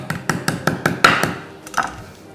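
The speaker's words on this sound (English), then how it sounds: "just bang it a bit on your chopping board so that it opens up" Whole spice pods are banged on a wooden chopping board in a home kitchen, making a quick run of about seven sharp, close taps followed by two more spaced knocks, with no talk.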